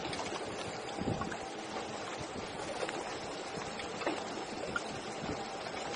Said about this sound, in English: Man, this dang wind.